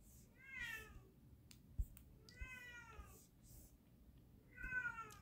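A cat meows three times, each cry a drawn-out, rising-then-falling call spaced a couple of seconds apart, fairly close but soft, with faint handling clicks and a thump between calls.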